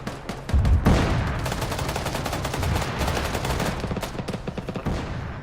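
Gunfire in the video game Arma, with a heavy close burst followed by sustained rapid automatic fire and overlapping shots rattling on without pause, loud and dense.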